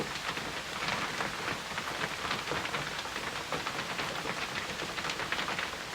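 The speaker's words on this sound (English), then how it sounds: "Just hope we're audible over the raindrops" Steady rain pours down, a dense, even patter of drops hitting surfaces, constant and moderately quiet throughout with no voices.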